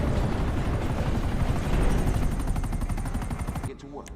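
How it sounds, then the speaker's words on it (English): Missile-armed attack helicopter in GTA Online, its rotor thumping loud and fast in a rapid, even pulse that dominates before cutting off abruptly near the end, leaving a brief quieter tail. "This is a dope helicopter."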